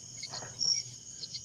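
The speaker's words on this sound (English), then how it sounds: "By the way, those crickets, that's not really your backyard." Crickets chirping as background ambience for a live show, a faint, steady high-pitched trill running throughout, with a slightly louder burst midway and soft low room noise beneath.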